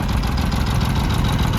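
Oliver 70 tractor engine idling roughly, a steady close low rumble with uneven knocking pulses throughout and no voices.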